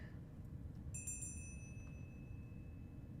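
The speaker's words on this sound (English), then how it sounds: "Is that what the bell was?" A brief bright bell chime from the video game 5D Chess rings out once, its tones lingering and fading over a steady low background rumble.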